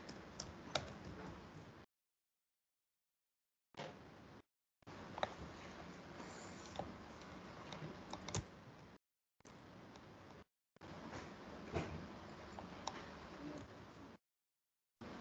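Fingers type a password on a computer keyboard in soft, quick clusters of key taps, broken by short silent gaps, close and fairly quiet.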